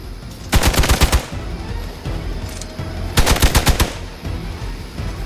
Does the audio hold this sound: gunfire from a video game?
yes